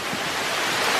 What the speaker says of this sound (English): my camera's getting wet and things are getting super bright out here and water's flying directly sideways